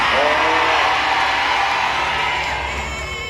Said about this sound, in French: Il faut crier amen fort comme un chrétien convaincu.